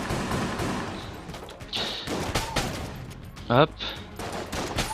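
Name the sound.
gunfire from a weapon in the video game Enter the Gungeon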